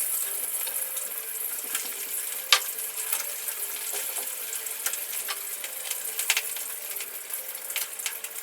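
Chicken pieces fry in a pan with a bright, continuous hiss of hot oil. Small pops and a single sharp clink rise above the sizzle.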